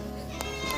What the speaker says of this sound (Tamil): அதான் வீட்டு பூனை நடக்கிறது